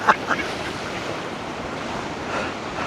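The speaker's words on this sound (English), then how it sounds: "there's waves coming up onto the bridge here" Ocean waves wash over a bridge at the Castillo de San Gabriel in Arrecife, Lanzarote, a steady loud surf rush with wind buffeting the microphone and a couple of brief splashy bursts at the start.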